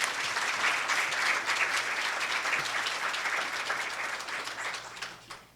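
An audience at a plenary session claps to welcome Dr. Christopher Allison, a dense, sustained burst of applause that fills the room and then tapers off toward the end.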